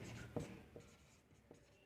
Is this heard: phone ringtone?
no